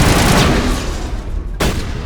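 Rapid gunfire in Mass Effect crackles loudly in dense overlapping bursts, thinning briefly before a sharp fresh volley cuts back in near the end.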